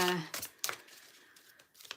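A deck of cards being shuffled, a brief papery riffle and crinkle near the mic, with a short voice at the start.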